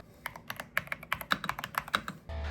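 Fingers tapping the physical keys of a Clicks phone keyboard, a quick irregular run of about a dozen crisp clicks up close, ending in a brief soft rustle.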